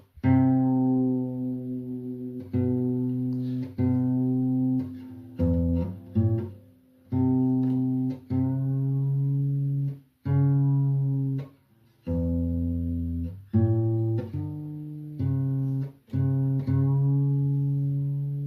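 Single plucked acoustic guitar notes on the D string ring out repeatedly, each sustaining then fading, the pitch shifting slightly between plucks as it is tuned down from very sharp.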